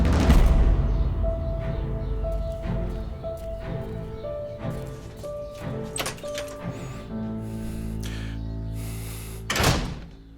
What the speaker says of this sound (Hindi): दरवाजा तोड़ोगी क्या? तुम्हारे बाप का दरवाजा नहीं है।